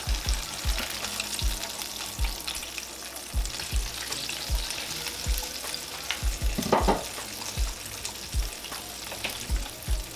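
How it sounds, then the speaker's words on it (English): Pork chops fry and brown in a pan for smothered pork chops, giving a steady close sizzle broken by repeated light knocks and scrapes from stirring and turning. "Going to add my 2 other pork chops."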